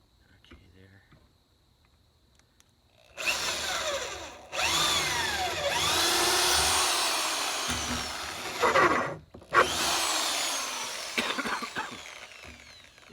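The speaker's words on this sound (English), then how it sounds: "Then I'm screwing this into the side of them." Power drill driving screws into wooden side boards on a Ranger flatbed, several long whirring bursts with brief gaps between them, close and loud.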